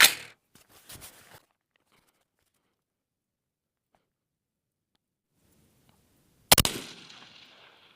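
An 18-inch AR15 chambered in 22 DPC Wildcat fires 85.5gr Berger Hybrid bullets. A loud, sharp report opens the clip, and another crisp crack comes about six seconds later, with near silence between them.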